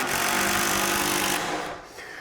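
Power driver sinking a screw into a wood stud: a loud, steady whirring buzz that holds for over a second, then cuts off and drops to quieter noise.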